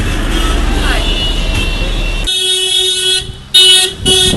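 A car horn honks in Chiang Mai traffic, with a steady blaring tone sounding over road noise, then two further short, loud blasts close by.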